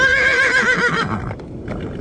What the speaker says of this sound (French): Les chevaux, on dirait qu'ils ont peur.